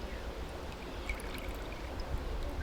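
Liquid from an elderflower mixture pressed through a wet muslin cloth, pattering and trickling steadily into a container below in a continuous wet stream.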